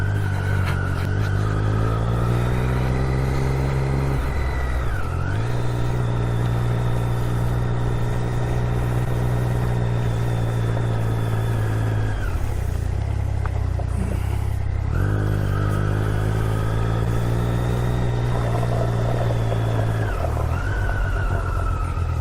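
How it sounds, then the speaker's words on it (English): A motorcycle rides through heavy rain and puddles, its engine droning steadily and close with pitch rising and dipping as it slows and pulls away, wind and spray hissing over the top. "Dodgy going through puddles like that on a bike"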